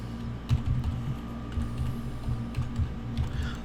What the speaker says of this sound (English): I've got to type around the microphone